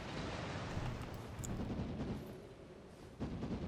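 A fire pot blast in Elden Ring erupting on impact, a dull booming rumble that rolls on with a renewed thump near the end, loud and close with no talk.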